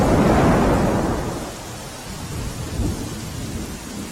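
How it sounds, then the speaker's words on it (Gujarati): Heavy monsoon rain pours down in Upleta as a deep, loud thunder rumble rolls at the start and fades, leaving a steady hiss of rain with a second softer rumble. "વિક્રમસિંહ, રાજકોટના ઉપલેટામાં પણ ધોધમાર વરસાદે મુશ્કેલી સર્જી છે, ત્યાં કેવી સ્થિતિ જણાઈ રહી છે?"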